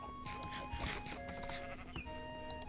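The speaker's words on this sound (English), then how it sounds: "Oh, Fluffy, good sheep." A sheep in Minecraft gives several short, wavering bleats in close succession, clear and up front over a low background hum, with no talking.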